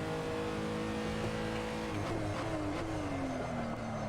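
A Renault R.S. 01 race car laps the Red Bull Ring in a racing video game, its engine droning steadily and loud, with a rising then falling pitch sweep as it shifts and accelerates, no talk.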